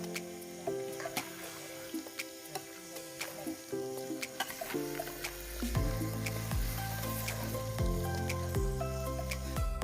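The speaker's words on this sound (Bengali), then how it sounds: "আসলে মাংস এখন রান্না করা হচ্ছে" Meat sizzles and bubbles in a pot over the fire at an outdoor night picnic, a steady close frying hiss with crackles and stirring clatter, plus a humming tonal background throughout.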